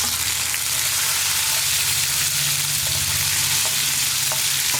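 Tomatoes sizzle steadily in hot oil as they are sautéed for a coconut-free kadala curry, a continuous close frying crackle with faint stirring scrapes and a low hum beneath, no voices.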